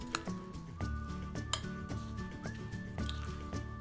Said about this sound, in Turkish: üzerine 125 gram eritilmiş tereyağını güzelce döküyorum ve karıştırıyorum